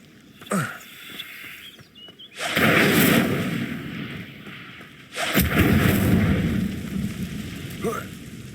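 Incendio fire spell cast in the Hogwarts Legacy video game: two loud, roaring blasts of magical fire, each swelling suddenly and then trailing off over a few seconds, over faint quieter game ambience.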